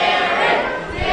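Steady roar of a crowd cheering at an election primary watch party at the Plains Hotel in Cheyenne, loud and continuous with a dense wash of voices throughout.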